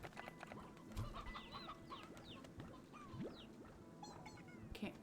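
Chickens cluck in the video game Slime Rancher, several overlapping short calls and chirps scattered over a busy background of game sounds, moderately loud throughout.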